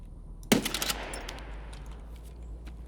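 A sharp burst of automatic gunfire in Escape from Tarkov, directed at the BTR, rattles off in a quick cluster of shots. It is moderately distant and then trails into a faint echoing tail over quiet background.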